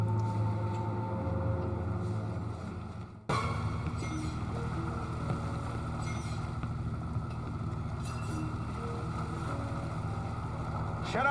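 A boat engine from the JAWS pinball machine drones steadily with a low rumble and wind-like hiss, cutting out briefly before resuming for a long continuous stretch.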